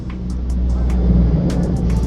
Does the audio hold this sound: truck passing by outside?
yes